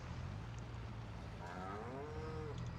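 A cow in the farming video game Farming Simulator 22 lets out a drawn-out moo in the second half, over a steady low engine drone.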